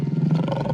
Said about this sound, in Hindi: भैया, शेर की दहाड़ सुनाई दे रही है